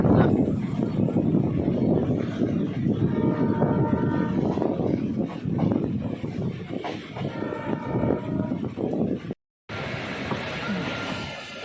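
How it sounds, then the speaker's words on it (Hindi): The 12091 Naini Jan Shatabdi Express rolls into Laksar Junction railway station with a loud, steady rumble of wheels and carriages, broken by two long horn blasts and a brief dropout near the end. "train arriving at Laksar junction railway station"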